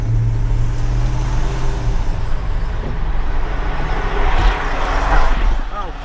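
A pickup truck drives with a steady low engine drone and road rumble, swelling slightly toward the end, with a voice speaking briefly over it.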